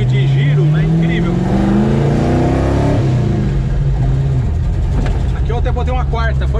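A GT40 replica car with a 350 hp engine pulls away in first gear and revs. A loud, deep engine roar climbs steadily, close to the microphone, with voices talking over it.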